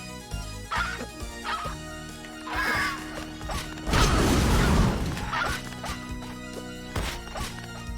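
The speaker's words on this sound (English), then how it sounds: "Going and smashing my head against this roof." A character in the Timespinner video game slams their head against a roof in a loud smashing burst near the middle, with sharper thuds and clatter before and after over game sounds.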